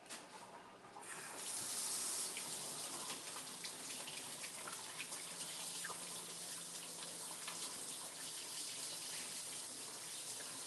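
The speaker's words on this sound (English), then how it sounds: "I'll wash my hands again" Hands are washed under a running kitchen tap, a steady close gush of water that starts after a brief quiet moment and continues evenly with light splashing.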